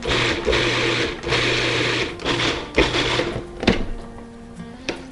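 Food processor pulsing corn salsa with vinegar, several short whirring motor bursts in quick succession followed by choppy blade rattling, close and fairly loud with no talking.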